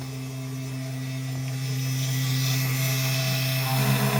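A mini CNC machine runs at a slow feed of about 50 millimetres a minute, giving a steady, close electrical hum with a faint whine that holds evenly throughout.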